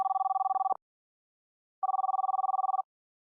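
Ringing from a test call placed on a browser-based webphone: two bursts of an electronic warbling ring, each about a second long, separated by a silent gap, clean and close with no voices.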